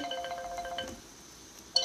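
A phone ringtone plays a short melodic electronic tune that breaks off after about a second, then a brief bright chime returns at the end.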